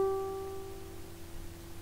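A single ukulele C string plucked for tuning during a classroom lesson, one clear sustained note ringing alone and slowly fading over about two seconds.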